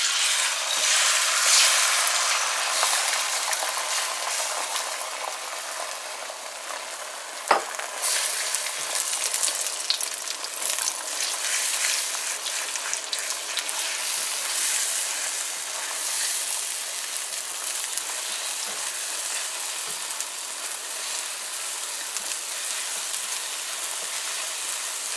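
Eggs fry in hot oil for egg ramen, a loud, steady crackling sizzle close by that spits and pops throughout, with one sharp knock early on and no voices.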